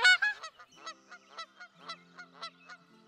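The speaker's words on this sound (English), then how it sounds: "Thomas Jefferson kept a flock of geese just to make sure he didn't run out" A flock of geese honking nearby: a loud cluster of harsh honks at the start, then fainter scattered calls in an irregular rhythm, with no talking.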